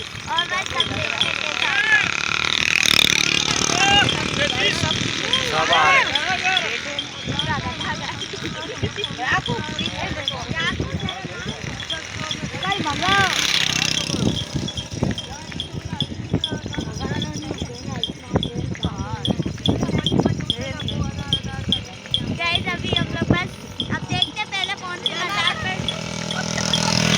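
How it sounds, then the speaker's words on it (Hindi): A donkey cart ride with hooves clip-clopping in a steady, uneven rhythm under constant road and cart noise, while people talk throughout. "हम लोग फर्स्ट टाइम गधा गाड़ी में बैठे हैं"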